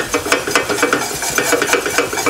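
A spoon scrapes and stirs a butter and flour roux for gravy in a pan, making steady, loud rasping strokes with a faint sizzle underneath and no voices.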